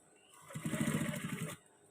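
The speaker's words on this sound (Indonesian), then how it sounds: "Sekarang kita jahit." A sewing machine runs a short burst of stitching through trouser fabric, its needle chattering in a fast, even rhythm for about a second before stopping, close and alone with no talk.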